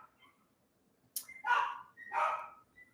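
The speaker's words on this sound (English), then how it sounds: "all the other dogs are going kind of crazy" Two loud dog barks in quick succession, the second following about half a second after the first, rising over a faint background hum.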